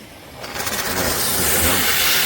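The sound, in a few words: Kärcher SC 5 EasyFix steam cleaner running at maximum steam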